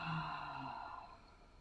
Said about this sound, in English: let's start with a big inhale and exhale